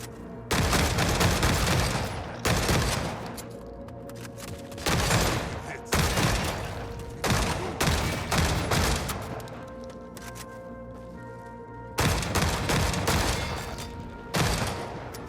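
Bursts of heavy automatic gunfire from the video game The Forever Winter come in long loud volleys separated by brief pauses, repeating across the whole stretch with no talking.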